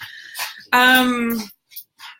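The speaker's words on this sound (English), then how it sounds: "those are my dogs fighting in the background" Two pet dogs, Twinkles and Buttercup, fighting indoors: one sharp, loud whining yelp held for close to a second, with brief softer growls and yips around it.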